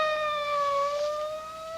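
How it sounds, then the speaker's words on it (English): Police car siren in an old-time mystery radio drama, heard as a steady, sustained wailing tone with a slowly wavering pitch, moderately loud with no voices over it. "It's a police car."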